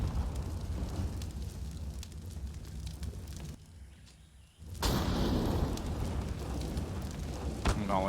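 A Molotov incendiary burns in Counter-Strike during a MOUZ vs fnatic match at the IEM Rio Major 2022, a steady crackling, roaring blaze that dips briefly, then returns louder and fuller.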